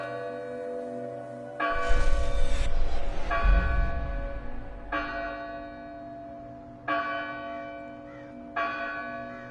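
A church-style bell rings out in the video game Dustborn, with several loud, resonant strikes in sequence, each leaving a long ringing decay that overlaps the next.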